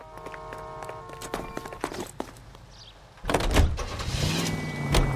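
A car in the video game L.A. Noire: scattered footsteps and door clunks come first, then the engine roars up loudly and holds a steady, rising drive as the car pulls away.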